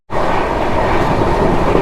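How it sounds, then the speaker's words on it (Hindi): The Chennai Express from Mumbai LTT to Chennai Central rolls along after departing, a loud, close, continuous rumble of wheels and carriage noise filling the whole stretch. "अच्छा यार, ट्रेन निकल पड़ी।"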